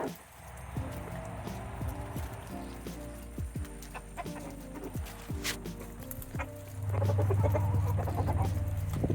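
Excited backyard chickens cluck and squawk in their coop in a dense, overlapping chorus, with scattered thumps and scuffling. The clucking grows louder and busier toward the end.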